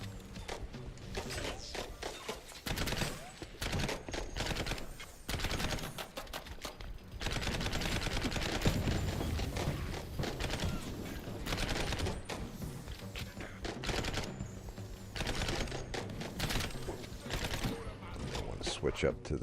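Game gunfire in Mouse: P.I. for Hire, pistol, repeated quick shots in irregular bursts across the stretch, moderately loud, with someone talking over the action.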